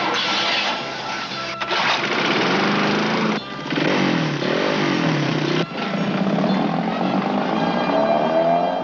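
A small engine runs loud and continuously with a steady buzzing drone, broken by a few brief dips and then revving upward near the end. It plays in a television advertisement for Champion spark plugs.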